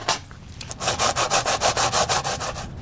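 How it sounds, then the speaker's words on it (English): A cut half head of garlic is rubbed firmly back and forth across crisp toasted bread, making about a dozen rhythmic, close scraping strokes with no voices. "After a good rubbing with garlic"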